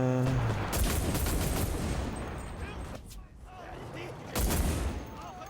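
Panicked rapid gunfire in the World War II shooter Enlisted, dense bursts of shots rolling across the whole clip with a brief lull near the middle before another loud volley.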